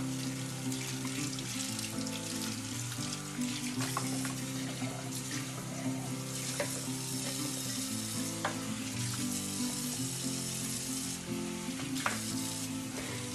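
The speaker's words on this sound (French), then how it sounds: "je les lave tout simplement avec une éponge et du liquide vaisselle" Baby bottles are washed at a kitchen sink with a sponge and dish soap, a steady running tap hissing beneath wet scrubbing, squeaks and light plastic clinks, close and continuous without speech.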